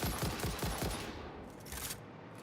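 Rapid automatic weapon fire from the video game Satisfactory, a dense burst of repeated shots in the first second, then continuing noisy gunfire with a few sharper reports, loud and close, with no talking.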